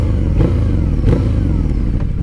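A Harley-Davidson V-Rod 100th Anniversary motorcycle accelerates hard from a launch, a loud, close, throbbing engine roar with rhythmic pulses and no voices.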